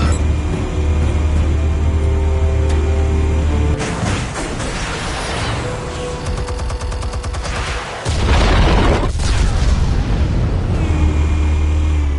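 Explosives detonate in the Batman Telltale video game, loud booming blasts and rumbling crashes rolling through a dense, noisy game soundtrack with a sharp burst near the middle.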